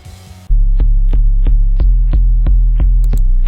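Bass line from a Friday Night Funkin' song, a low steady throbbing hum pulsing in a regular beat with sharp clicky accents, entering loudly after a brief noisy intro and playing alone.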